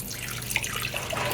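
Water pours and splashes as rice is rinsed by hand, a steady close rush broken by brief drips and sloshes, with no one talking.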